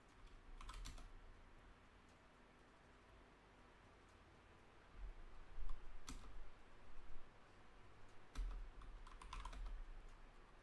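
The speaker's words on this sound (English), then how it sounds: "So let me type run one command." Keys tapped on a computer keyboard while entering a command in MS-DOS 2, heard as faint scattered clicks in short bursts, with quiet stretches between them.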